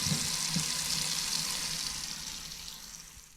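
Portobello mushrooms are rinsed under a running tap, a steady close splash of water that fades out toward the end with no talking.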